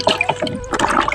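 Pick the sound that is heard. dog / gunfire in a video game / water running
water running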